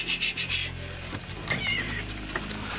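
Frightened cat during a rescue, giving a few short meows and cries over scraping and rubbing noises, close and moderately loud, with no speech.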